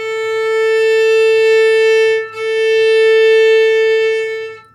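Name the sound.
violin playing two open A string notes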